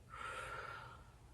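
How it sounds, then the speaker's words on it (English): A single soft, airy inhale taken as part of a vocal warmup, close and quiet, lasting just over a second with no talking. "And inhale."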